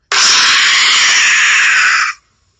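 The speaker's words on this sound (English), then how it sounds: "something screams and lunges towards you" A single loud, sustained horror scream lasting about two seconds, harsh and piercing, starting abruptly and cutting off sharply into silence, heard alone without talk.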